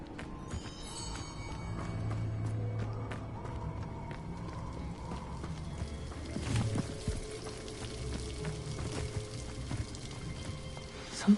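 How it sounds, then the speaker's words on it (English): A waterfall in the video game Hogwarts Legacy pours in a steady, rushing wash of falling water that carries on throughout, moderately loud, with a few brief knocks and splashes over the top. "The waterfall."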